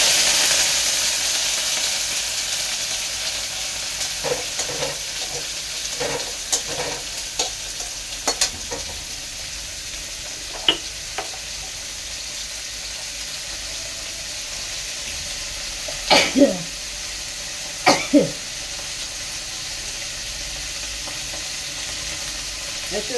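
Onions fry in oil seasoned with panch phoron for daal, a continuous close sizzle with occasional stirring scrapes and clinks, with no talking.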